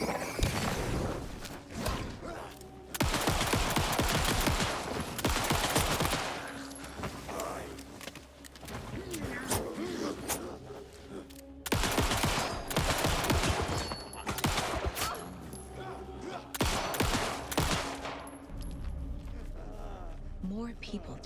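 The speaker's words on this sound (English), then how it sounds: "Alright, I have an automatic pistol now" Automatic pistol fire in the video game Alan Wake 2, several long rapid bursts of shots separated by pauses, loud and close, with game sounds in between and a voice talking at times.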